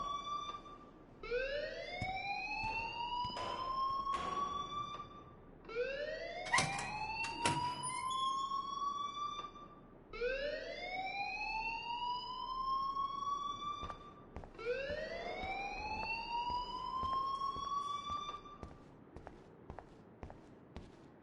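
A school alarm in the video game Life Is Strange wails in repeated rising sweeps, about four long cycles at a moderate, somewhat distant level, with scattered thumps and movement underneath.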